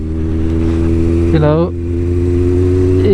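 The carburetted engine of a Yamaha XJR 1200 or Suzuki GSX 1400 motorcycle runs loud and steady with a deep low hum, and someone speaks briefly over it.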